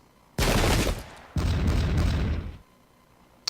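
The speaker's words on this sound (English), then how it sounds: "with that amount of rifle fire, they're so gone" Massed rifle volleys from Pike and Shot era troops crackle in two long, loud bursts of overlapping shots with a brief gap between them, then fade to near silence.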